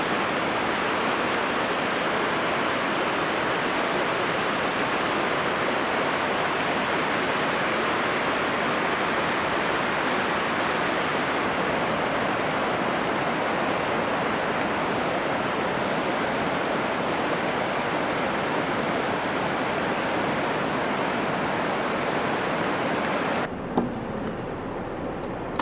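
The Alaknanda river rushes through the Himalayas near Pandukeshwar with a loud, steady, unbroken roar of churning water that stays constant throughout.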